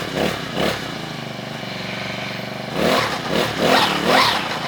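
A 35cc four-stroke bush cutter engine runs steadily after starting, a close, loud mechanical drone with a rough buzzing tone, then surges in several revving bursts toward the end.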